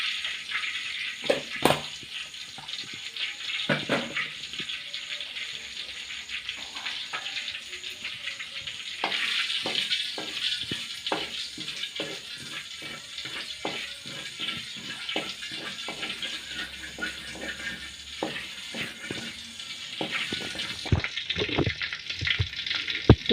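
Half a spoon of cumin seeds fries in about three spoons of hot oil with a continuous crackling sizzle, scattered pops and clinks, and brief louder bursts as the seeds are stirred.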